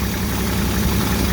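An old truck's engine idles steadily with an even, rumbling drone, close and loud with no voices over it.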